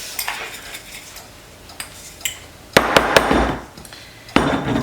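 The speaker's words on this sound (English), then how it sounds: "So I'm going to give this a good shake to mix it all up" Ingredients with a couple pinches of salt are shaken in a container, giving sharp rattling knocks and clatters in short bursts, close and loud, with quieter handling between.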